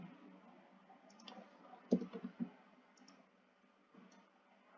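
Soft, close computer mouse clicks while selecting objects in Snaptrude design software. A quiet cluster of small taps sits in the middle, with a few faint clicks scattered around it and no speech.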